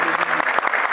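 A crowd at the Festival des Musiques du Cameroun claps steadily and loudly, a dense wash of applause with no pause throughout.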